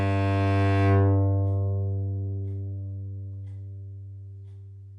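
A low bowed note on a cello's G string, a Larson Magnacore Arioso string, rings out and slowly decays, rich in overtones, with faint clock ticking in the background as it fades.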